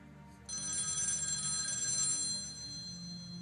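Telephone in The X Files Game (PC, 1998) begins ringing abruptly, a loud, sustained electronic trill that holds steady for several seconds before easing slightly, with no talk.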